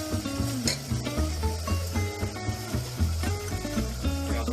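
Chopped carrots go into chicken pulao in a pressure cooker and are stirred in, giving a continuous sizzle of frying with scraping and stirring over a steady background.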